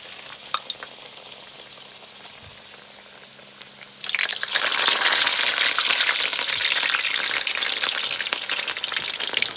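Egg rolls about four inches long drop into hot grease in a wok. After a few quiet seconds with faint clicks, a loud, steady sizzle of deep frying bursts in and continues crackling to the end.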